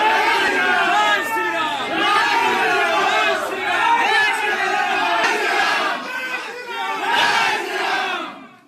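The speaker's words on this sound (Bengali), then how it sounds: "বিজেপির স্লোগান।" A crowd chants BJP slogans outside a panchayat office in Jalpaiguri, many voices shouting in rhythmic repeated bursts, loud and close, continuing for several cycles before fading at the end.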